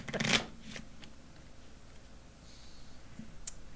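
Deck of Magic collectible cards riffled in a quick, crisp burst at the start, followed by a few soft clicks and handling noises from the cards against a quiet background.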